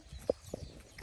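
A pony ridden by a cowboy at a gallop on the track at Parque Guarani: a few quick, soft hoof clops, brief and fairly faint.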